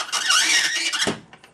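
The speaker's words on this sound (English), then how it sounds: "Dry ice does scream when it touches metal." A high, sustained squeal of dry ice pressed against metal, loud and continuous for about a second before cutting off with a short thud and faint trailing squeaks.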